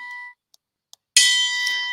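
A bright chime rings out clearly after a short silence, with sustained ringing tones that linger to the end, preceded by a brief softer tone and two faint clicks.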